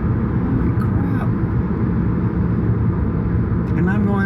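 City traffic of cars passing on a street at night, a steady loud rumble with engine and tire noise throughout, faint brief hisses near the end.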